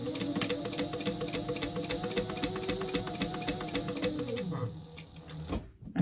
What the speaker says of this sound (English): We're going to top stitch this, okay?